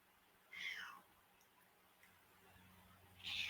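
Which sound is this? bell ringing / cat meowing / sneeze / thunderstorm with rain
cat meowing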